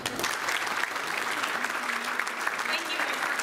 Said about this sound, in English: Let's give them another round of applause.